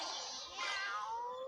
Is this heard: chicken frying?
no